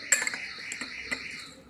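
A metal spoon clinks against a bowl as oats are added, giving a few light, sharp taps and scrapes close by, with no talking.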